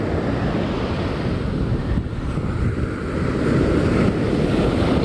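Surf breaks and washes along a North Carolina beach in a continuous broad roar, with gusts of wind buffeting the microphone, loud and steady, no voices.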